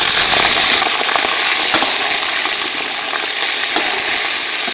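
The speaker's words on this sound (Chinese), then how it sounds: "加入合成植物油，油热下入五花肉" Pork belly hitting hot vegetable oil in a wok, a loud, close, continuous sizzle and crackle with scattered spitting pops as the meat is stirred.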